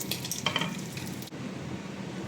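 A baked russet potato is mashed together with bacon, giving a steady soft scraping and squishing texture that shifts abruptly partway through, with no talking.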